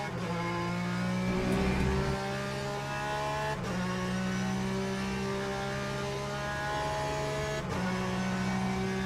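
A Ferrari race car engine in a video game drones with a steady, constant whine, sustained throughout with brief shifts in pitch, loud and unbroken with no voices.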